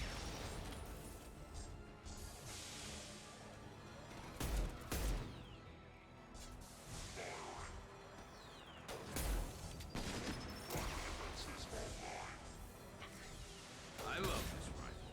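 Rifle gunfire in the Mass Effect video game crackles amid combat, with sharp loud shots and bursts at irregular intervals over a dense background of battle noise and game effects.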